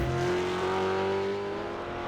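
Supercar in an esports racing game on Spa-Francorchamps, climbing the Kemmel Straight, a loud sustained engine whine held close and steady, slightly fading at the end.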